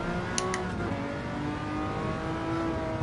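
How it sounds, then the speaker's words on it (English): An old Group C race car in Gran Turismo 7 holds a steady, loud engine drone with harmonic whine, close and continuous with no talk; any gear changes are not distinct. "This old Group C much slower on the gear changes than the Group 3s were"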